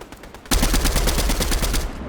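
Automatic rifle fire in a video game: a rapid, loud burst of repeated shots starts abruptly after a short quiet lead-in and keeps going steadily to the end.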